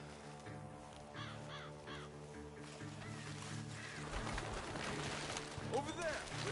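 Several crows caw in a video game's outdoor fields, their calls rising over game music and an ongoing voice, with a burst of cawing near the end.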